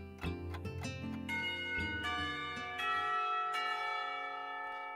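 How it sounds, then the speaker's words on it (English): School lunch bell chiming in the Katawa Shoujo visual novel, several bright bell strikes ringing out one after another, loud and clear, with long resonant tones decaying alone. "As soon as the lunch bell rings"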